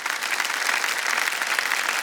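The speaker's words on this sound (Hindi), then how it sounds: "तालियां बज जाए इनके लिए" A studio audience on a game show applauds steadily, a dense, loud wash of many hands clapping throughout with no voices over it.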